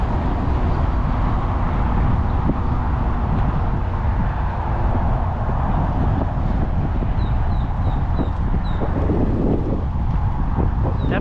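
Steady wind buffets the microphone at a lakeside fishing spot by an Alligator Alley rest stop, a continuous broadband roar with faint rumbling traffic underneath and no talk.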